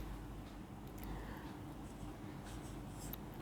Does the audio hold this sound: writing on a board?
yes